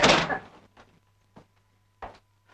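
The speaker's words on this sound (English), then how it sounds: "Close the door, please." A door closing in an old 1941 film scene, one loud thud at the start followed by a few softer knocks and rattles.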